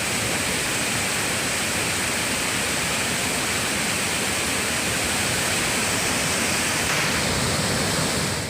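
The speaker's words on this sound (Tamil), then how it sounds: "ஒகேனக்கல் காவிரி ஆற்றில் வினாடிக்கு சுமார் 1 லட்சம் கனஅடி தண்ணீர்" Floodwater of the Cauvery River roars over Hogenakkal falls at about one lakh cubic feet per second, a dense, steady, loud rushing wash with no breaks and no voices.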